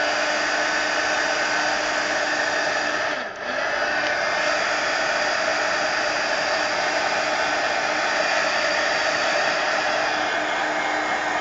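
A hair dryer blows steadily for several seconds to dry a mixed media page in an altered abandoned book, with one brief dip in its loud, constant whooshing roar.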